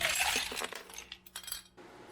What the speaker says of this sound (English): We're going to put ice in the mixing glass.